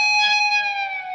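An electric guitar note on the 19th fret is picked and bent upward, a single bright sustained tone that holds steady and slowly fades, alone and close.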